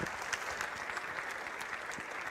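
A school audience at Grand Island Senior High applauds to welcome speaker Hunter Rabenslaben, a steady wash of clapping that stays even throughout, with no one speaking over it.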